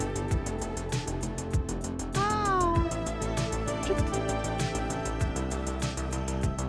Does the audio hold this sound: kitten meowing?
yes